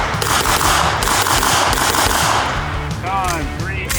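Rapid, dense gunfire from an MPX pistol-caliber carbine or Glock 47 pistol during a timed drill of three shots per target, drawn from concealment; a steady, loud string of closely packed reports with no pauses.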